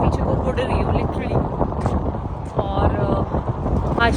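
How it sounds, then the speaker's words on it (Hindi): Strong wind blows outdoors in the UK, roaring and buffeting hard against the microphone in a constant loud rumble, while someone talks over it. "हवा देख रहे हो आप, इतनी भयानक हवा चल रही है ना"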